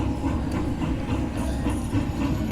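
A locomotive sound effect in a video game: a steady rumbling train with rolling clatter and hiss, continuous and fairly loud throughout.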